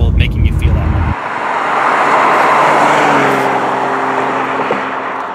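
A 2017 BMW M2 driving on the road, a steady loud engine and tire roar with a rising whine partway through, heard from inside or close by.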